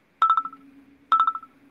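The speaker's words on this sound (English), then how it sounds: "I'm so glad you changed another terrible ringtone" A phone ringtone sounds during a podcast call, two identical quick chiming bursts about a second apart, loud and clear with a low steady hum underneath and no talk.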